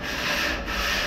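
A worker on a townhouse construction site rubbing sandpaper over wood by hand, producing a close, continuous, hissing scrape that swells and dips briefly without any talking.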